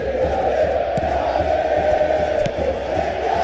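A stadium crowd in a PES 2021 football match between Atletico de Madrid and Arsenal gives a steady roaring murmur of reaction, loud and continuous throughout.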